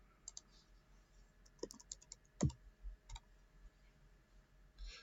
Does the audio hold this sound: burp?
no